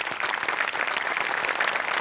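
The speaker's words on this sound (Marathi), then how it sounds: "सचिन मोठ्यांसाठी टाळ्या वाजवल्या पाहिजेत" Steady applause from a comedy show's studio audience, dense overlapping claps sustained at even loudness throughout.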